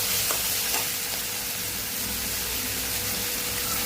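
Dried red chillies, ginger and garlic sizzle and fry steadily in hot oil in a pan for chutney, a loud, constant crackling hiss with light stirring.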